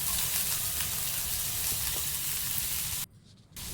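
Soaked toor dal frying in a pan with onion and garlic, a steady broadband sizzle that drops out briefly near the end before resuming; no talking.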